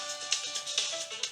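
A mobile phone rings in a quiet room, a faint electronic melody of short, evenly spaced bright tones repeating through the moment, with no voices.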